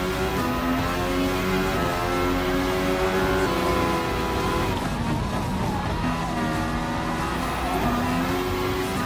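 Formula 1 race car engine in the Gran Turismo Sport video game, Mercedes AMG Grand Prix event: a continuous high-pitched whine that holds steady, dips and climbs again through gear changes, loud and unbroken throughout.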